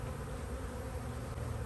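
Honey bees buzz and fan steadily at a wide-open hive entrance in a bee yard, a dense, continuous close-up drone with no talking.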